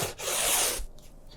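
A brush sweeps across textured watercolor paper laying in a beach's sand with Indian yellow, one close, soft rasping stroke lasting under a second, followed by faint quieter rubbing.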